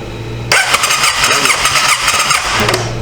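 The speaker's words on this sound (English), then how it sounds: "Let's bump it over and see if we got any spark." Starter cranks the engine of a 2005 Honda Rincon 650 ATV, abandoned with carburetor trouble, in one loud continuous close-up whirring burst that doesn't catch, then stops abruptly.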